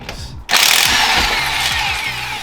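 A power tool spins lug nuts off a Honda Fit wheel during a brake job: a brief ratcheting start, a short gap, then a loud, sustained, close whirring run.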